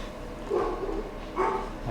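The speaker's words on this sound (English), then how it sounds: "my dogs are fucking barking" Dogs bark in two muffled bursts from another room, indistinct and fairly faint over a low background rumble.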